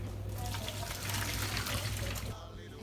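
Water from a pot of boiled sweet potatoes poured off into a sink, a steady splashing rush that runs for a couple of seconds and then thins out, fairly quiet.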